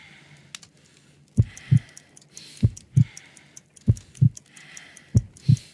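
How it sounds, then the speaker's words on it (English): Heartbeat in the Sherlock Holmes: Crimes and Punishments video game, a slow, weak pulse of paired low thumps repeating about four times, each lub-dub distinct and fairly close, with faint clicking and a light hiss in the background. "I need to concentrate and count the heartbeats."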